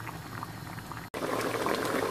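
A pot of sauce with prunes and apricots boils on the stove, giving a steady close bubbling and simmering that is broken by a brief silent gap and then resumes, slightly louder.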